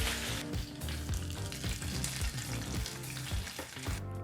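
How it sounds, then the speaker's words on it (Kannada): A hot tempering of oil and curry leaves sizzles and crackles as it is poured into a cooker of bottle gourd dal, a loud, busy frying hiss with sharp pops throughout. "ಫ್ಲೇಮನ್ನು ಆಫ್ ಮಾಡಿ ಈ ಒಗ್ಗರಣೆಯನ್ನು ಕುಕ್ಕರ್ಗೆ ಹಾಕೋಬೇಕಾಗತ್ತೆ"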